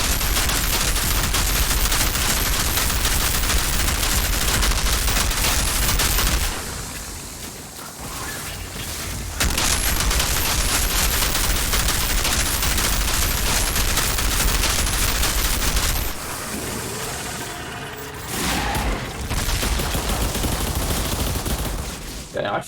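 Dense, rapid automatic gunfire from the looter shooter game Outriders bursts loud and continuous, breaking off into short pauses before the sustained firing resumes, with someone talking over parts of it.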